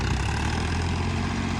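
A tractor engine on a road near a dairy farm, a steady low idling rumble that stays loud and unbroken.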